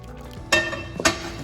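Tomato sauce being stirred into rice in a pan, with two close clinks of a utensil against the pan over a soft, steady sizzle and scraping.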